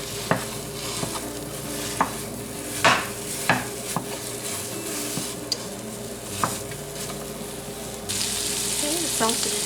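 Sausage sizzles steadily in a large cast-iron skillet for a country breakfast, with repeated scraping and clinking as a utensil stirs it, a constant frying hiss throughout and the sizzle growing louder near the end.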